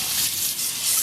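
Water gushes from a sink tap during washing up, a short, loud and steady rushing stream close by.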